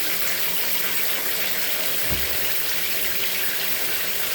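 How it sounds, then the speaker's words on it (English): A bathtub shower runs in a steady, dense hiss of spraying water, with a brief low thump partway through and no voices. "The shower's working, right?"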